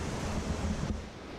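Rushing water of the Linville River flowing through the gorge, a steady broadband wash with a slight dip in level toward the end.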